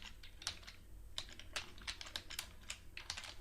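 Keys clattering on a computer keyboard while coding a web page, irregular clusters of crisp clicks over a low steady room hum, close and fairly quiet, no voices.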